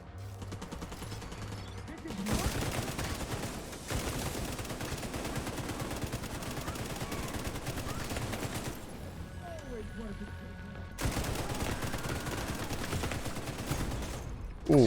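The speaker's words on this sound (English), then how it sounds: "we're taking some heavy fire there" Heavy automatic gunfire and rapid bursts crackle through a firefight in The Division 2, loud and sustained with brief pauses, including machine-gun fire.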